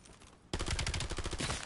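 A carbine in Black Ops 7 unleashes one fast automatic burst after a short quiet lead-in, a rapid, loud, close stream of shots lasting just over a second.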